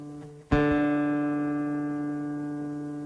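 A nylon D string on an Esteban classical guitar, plucked once and correctly in tune, rings out alone with a sharp attack and a long, steady, slowly fading sustain.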